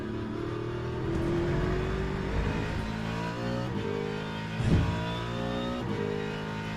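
Porsche race car engine in the racing sim Le Mans Ultimate, a steady harmonic drone with rising revs and one brief louder swell, heard alone without talk.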